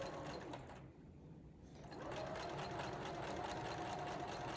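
A sewing machine stitches a curved quilt seam at slow speed, a quiet steady whirring hum that briefly dips then resumes, with no talking.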